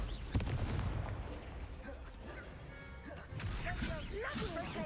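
The Confringo spell is cast in Hogwarts Legacy, giving a sharp blasting crack followed by crackling, whooshing magical bursts and rumbling debris, loud and busy throughout.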